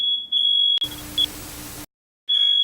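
A kitchen timer sounds sharp, high electronic beeps while beef Wellington cooks, a broad burst of noise cutting in midway before the beeping returns.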